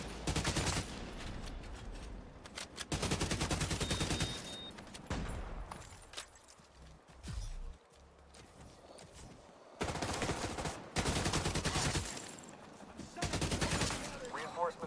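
Heavy automatic gunfire from The Division 2 as shots hit a Razorback's weak points, arriving in loud, dense bursts separated by quieter gaps with game sounds and background chatter.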